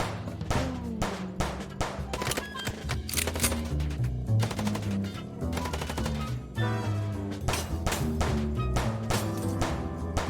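Rapid, loud bursts of gunfire from the Chicken Police video game, dense repeated shots rattling continuously with game music underneath, no talking.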